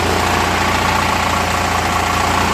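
A Murray 16 HP, 46-inch riding lawn mower with a Briggs & Stratton opposed-twin engine runs steadily close by, giving a loud, even, buzzing drone with a fast pulsing throb.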